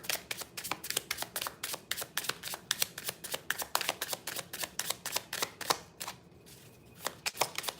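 Tarot cards are shuffled and drawn by hand in quick, crisp flicks and snaps that repeat in an uneven rhythm, close and fairly quiet, with a brief lull near the end before the card sounds return.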